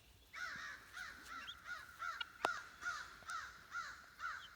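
A crow caws repeatedly from the top of a tree, a series of harsh rhythmic calls spaced about half a second apart, moderately distant, with no voices.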